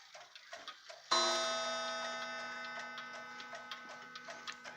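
Soft, even ticking from antique black mantel clocks is broken by a single bright chime strike that rings on and slowly fades while the ticking continues beneath it.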